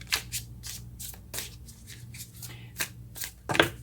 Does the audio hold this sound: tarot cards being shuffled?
yes